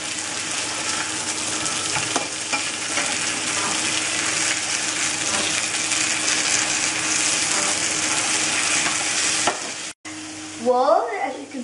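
A schnitzel sizzles loudly and steadily in a frying pan as it is flipped, a dense crackling hiss with small clinks, ending in a brief pause and a short voice-like sound.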